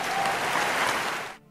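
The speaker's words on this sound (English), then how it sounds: "give Foxy Ladies a round of applause." An audience applauds, a dense wash of clapping that holds steady and then fades out quickly.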